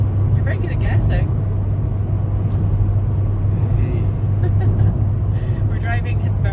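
A car travels steadily along the road on a journey, its engine and road noise forming a constant low rumble from inside the cabin, with faint voices now and then.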